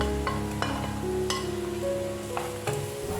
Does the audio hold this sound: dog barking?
no